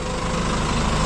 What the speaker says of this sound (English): Yeah, big fan of this tractor.